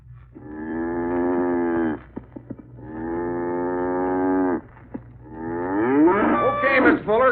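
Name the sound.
cow mooing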